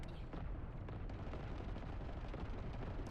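Continuous heavy gunfire against a boss in The First Descendant, dense rapid shots and booming impacts blending into a loud, unbroken roar of combat.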